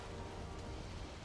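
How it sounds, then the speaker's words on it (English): Rain falls steadily in a survival video game, a constant hiss of drops with no breaks, quiet and even throughout the short stretch. "Nope, getting rainy."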